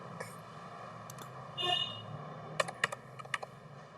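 Computer keyboard typing in a word processor: a few scattered keystrokes, then a quick burst of sharp clicks, close and fairly faint, no talk.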